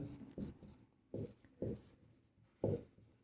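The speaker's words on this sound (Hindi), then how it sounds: "तो यहाँ पर क्या दिया है वो हम लिख लेते हैं।" Handwriting while working out a class 10 maths solution on circle areas. Several quick, close scratchy strokes come in separate bursts with quiet gaps between them.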